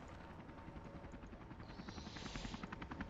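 A helicopter in a Blackhawk rescue mission video game, its steady rotor thrum continuous throughout and growing slightly louder and brighter toward the end, with no talk.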